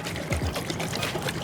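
Water sloshes and churns inside a glass gallon jug of homebrew cleanser solution as it is shaken, a continuous close, busy liquid swirl lasting about a second and a half.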